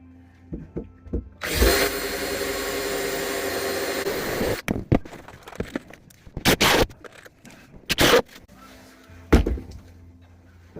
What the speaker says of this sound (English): I think it's funny how I'm using 3 different types of drills